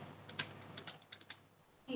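Scattered keystrokes on a computer keyboard while entering product names into an Excel bill, several crisp separate clicks close by, ending with a brief burst of voice.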